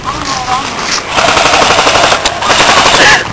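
Airsoft guns fire during an outdoor skirmish in dense, rapid strings of loud, close shots that rattle steadily for several seconds. Players' voices can be heard faintly beneath the shooting.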